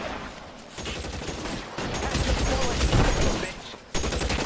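Bursts of gunfire in the L.A. Noire video game, a sustained, dense volley of shots that keeps up for several seconds. Voices speak faintly beneath it.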